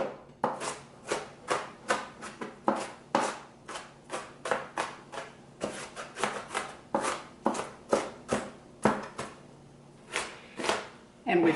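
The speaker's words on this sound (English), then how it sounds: "one whole small onion, and we're going to just chop it up" A knife dicing one whole small onion on a cutting board, producing a steady run of quick, close, crisp chops at an even rhythm with brief pauses.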